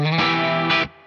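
A single distorted electric guitar walk-up note D, played on the fifth fret of the fifth string during a song, rings out briefly with a sustained, buzzy tone before being cut off, heard alone.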